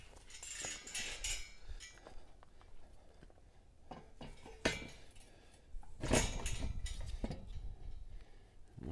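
A metal bar assembly for Eastonmade 22-28 grizzly bars being fitted into place, producing scattered faint metallic clinks and knocks, with a louder cluster of clanks partway through.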